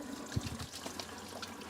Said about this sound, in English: Let me just wash my hands real quick.